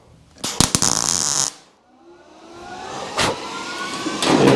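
A quick MIG tack weld on a 1967 Camaro body panel gives about a second of loud, close, crackling buzz that stops abruptly. A rising mechanical whir follows.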